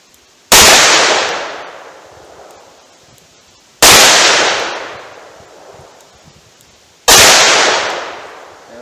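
Three loud .357 Magnum gunshots fired toward a target 70 yards away, each a sharp crack with a long fading echo, evenly spaced about three seconds apart with no voices.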